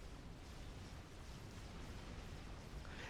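Supreme Commander T2 flak anti-air cannons fire in a steady, dense roar of overlapping bursts and booms, loud and continuous with no clear gaps between shots.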